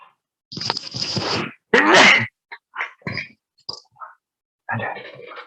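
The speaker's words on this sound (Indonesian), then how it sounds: "Saya mulai bersin." A person sneezes in the middle of a chemistry kinetics lecture, giving a loud sharp burst followed by a few shorter broken sounds and a quieter breath or murmur at the end.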